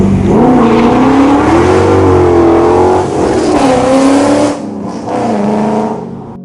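A BMW E39 M5 with Super Sprint headers and a custom 3-inch MagnaFlow exhaust revs loudly and close, the engine note rising and falling through several throttle blips before dropping away near the end.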